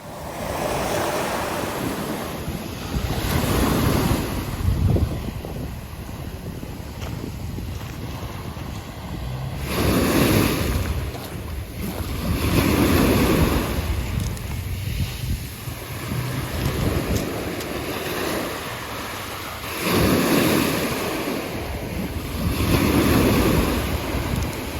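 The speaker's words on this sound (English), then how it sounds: "So we took a very quick walk there to just sit and listen to the waves and look around" Ocean waves roll in and break on the beach at Nice, France, loud surges washing ashore every few seconds with steady wind buffeting the microphone, no voices.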